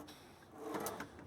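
A drawer on a 1998 Road Trek 170 Class B camper van slides open or shut with a soft rolling scrape and a light clack at the end, close and fairly quiet.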